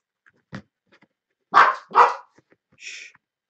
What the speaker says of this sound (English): Shut up, dog.